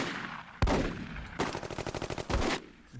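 An MG42 machine gun in the Close Combat video game fires a sharp shot, then a fast rattling burst of evenly spaced rounds, then another heavy report, loud and near, with no voices.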